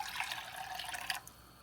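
Water poured into a pickling brine for pink pickled turnips, a steady close stream that stops abruptly partway through, leaving quiet room tone with no speech.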